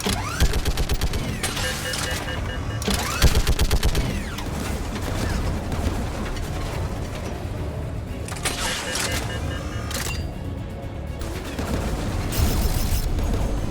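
Mass Effect 3 battle on Rannoch against geth fighters: dense, rapid bursts of gunfire with booming impacts and mechanical clatter, loud and continuous with brief quieter gaps.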